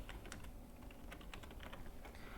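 Typing on a computer keyboard, with quick irregular key clicks running steadily and faintly throughout, alone with no voices.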